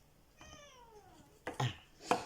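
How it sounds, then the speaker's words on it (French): A cat gives one drawn-out, falling meow that sounds unhappy, followed by a few sharp, close knocking thuds. "Ah, le chat, il n'est pas content."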